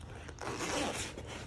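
A large zippered case holding several markers is unzipped in one continuous, close, rasping pull lasting about a second, with a short handling scrape at the start.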